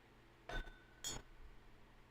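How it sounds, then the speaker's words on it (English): A cork pulled from a bourbon bottle gives two short, soft pops about half a second apart, close by in a quiet room with no talking. "Ooh, what a cork pop"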